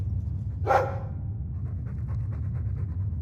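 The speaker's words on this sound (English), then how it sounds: "I'm sick of what's-his-name staring and panting." A Mabari war dog in the video game Dragon Age 2 pants steadily in short rhythmic breaths, close and clear, after a brief whimper-like burst near the start, over a low game ambience.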